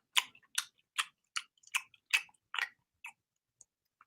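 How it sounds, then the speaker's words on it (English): Soft, close chewing on vanilla, about eight gentle crunchy bites in a steady rhythm over four seconds, each short and crisp, with a few faint ticks after, quiet and alone with no talking. "This is me just chewing super soft."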